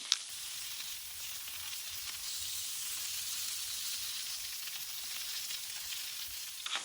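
Pork chops sizzle steadily in a hot pan, a continuous bright frying hiss that stays even and close throughout with no talking.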